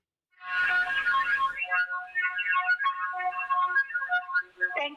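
A phone ringtone plays on a call to the Volta Standard Electronics helpline, a bright electronic melody of rapid repeated tones, loud and close, running alone for several seconds after a short silent lead-in.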